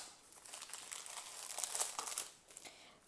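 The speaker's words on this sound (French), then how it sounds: "C'est des sachets qui sont chiants à ouvrir." Plastic sachets of diamond painting supplies crinkle and tear open in close, irregular bursts, the crackling rising toward the middle and then fading to quieter rustles.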